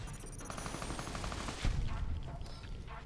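A shotgun fires in Fallout New Vegas: Tale of Two Wastelands. A quick burst of gunfire sounds against busy background game noise, with one heavier blast near the middle.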